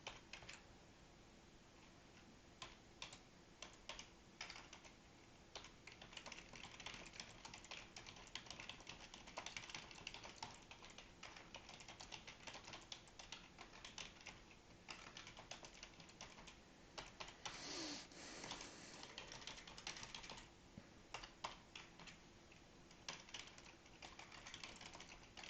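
Steady typing on a computer keyboard, quick irregular clicks and key taps at close range, continuing for a long stretch with brief pauses and no talking.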